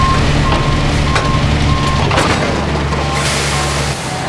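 A truck's reversing alarm beeps in a steady, evenly spaced series over a heavy diesel engine rumble while a trailer is hooked up, loud and close, with no voices.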